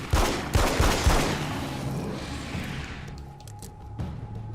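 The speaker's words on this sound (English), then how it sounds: "this gun's way faster than your revolver from the last game" Rapid gunfire from a fast-firing gun in Alan Wake's American Nightmare: a quick burst of loud, close shots that rings out and fades into a lingering echo, followed by a few faint clicks.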